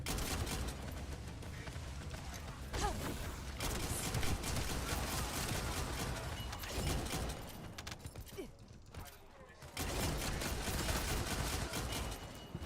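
Dense, continuous gunfire from a gun in The First Descendant, loud and sustained almost throughout, with a brief lull near the end before the shooting resumes at full intensity.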